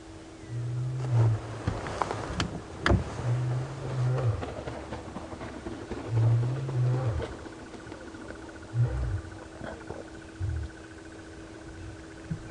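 Male lions lying near a carcass on a morning safari drive at Djuma Game Reserve give soft, low contact calls, a series of short, moderately near grunting moans spaced a few seconds apart over a faint insect hum.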